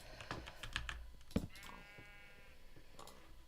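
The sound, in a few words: sheep bleating in a video game (Minecraft)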